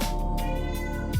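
A cat meows as it is picked up, one short, close, tonal cry that bends downward at the end.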